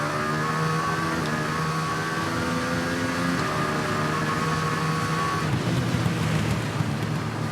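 A Norton motorcycle engine braking in the racing game TT Isle of Man 2 gives a steady droning engine note that falls away into rougher rumbling noise, with no voices.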